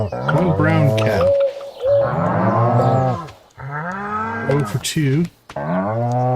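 Cows in the Stardew Valley farming game give long, loud, drawn-out moos one after another, close and dominant, with a brief burst of talk near the end.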